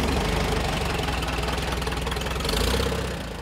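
A 1949 Farmall Super A tractor, converted to 12 volt with an alternator, with its engine running close by in a steady, rapid knocking putter that lifts slightly before easing off.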